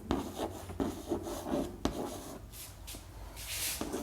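Pen or pencil scratching across paper by hand, a run of short rubbing strokes with brief pauses, close and fairly quiet, no voices.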